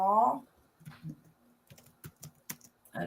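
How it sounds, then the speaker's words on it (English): Typing on a computer keyboard during a casual chat session: irregular clusters of sharp key clicks, close and clear, with a brief voice at the start and the end. "I'm typing an answer to a question in the chat."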